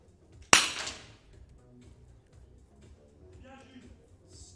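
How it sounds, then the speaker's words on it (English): A single sharp rifle shot at a 50 m prone shooting competition, close and loud with a short decaying tail, followed by quiet hall ambience and faint commentary. "he's waiting now for the final few shots of this series"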